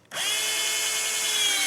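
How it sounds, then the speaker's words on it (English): A power drill whines steadily as it drives a screw into a gazebo rafter during kit assembly, starting abruptly and running loud and close for under two seconds with no talk. "let me put a screw in here"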